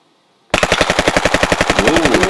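Machine gun sound effect in a board game session: after a brief silence, a loud, rapid burst of evenly spaced gunfire rattles continuously close up.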